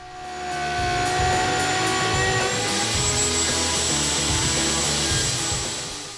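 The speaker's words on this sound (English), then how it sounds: "I then used my homemade horizontal slot mortising machine to create the slots in the extension" A homemade horizontal slot mortising machine cutting slots in wooden extension arms, a loud steady motor whine with a high tonal hum and rhythmic rough cutting noise that starts up, holds for several seconds and tails off.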